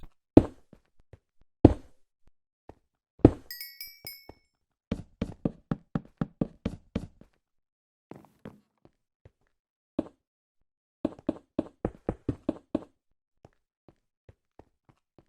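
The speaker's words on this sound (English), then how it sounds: "So I'm just going to go ahead and knock out this entire wall." Blocks in a wall being broken one after another in modded Minecraft 1.9.4: sharp, close knocking thuds in quick bursts with short pauses, plus a brief high chime early on.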